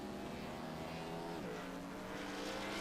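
NASCAR stock car engine in a racing video game at Dover, droning steadily and loud with a brief pitch drop midway as it downshifts, then climbing again.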